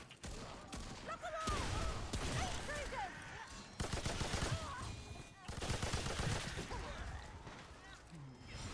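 Pistol gunfire in a multiplayer shooter video game, fired as loud bursts of sharp shots in several clusters amid chaotic game sounds, with people talking over it.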